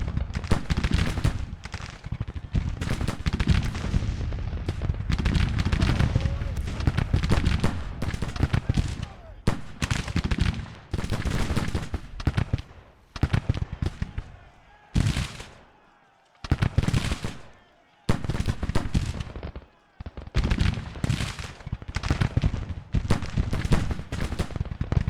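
Volleys of massed musket fire crackle almost nonstop from Civil War troops in battle in the strategy game Grand Tactician, dense bursts of gunfire with a few brief pauses, loud and close, with some talking mixed in.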